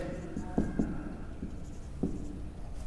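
Chalk or marker scratching out a mathematical statement on a classroom board in short strokes, with a few sharp taps standing out, a quiet room tone underneath.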